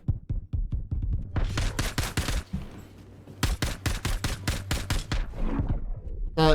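Ship weapons fire in the space video game Star Citizen, two rapid bursts of loud rhythmic shots separated by a short pause, close and punchy with a low throbbing hum beneath.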